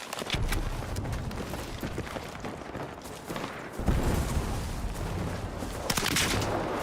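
Video game gunfire from Battlefield 6: a rapid, uneven series of loud sharp shots and bursts, with a heavier volley partway through and more shots near the end.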